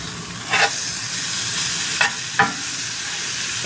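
Hotdog chili meat browning in a frying pan sizzles steadily while a utensil scrapes through it in three short strokes, close and unaccompanied by speech.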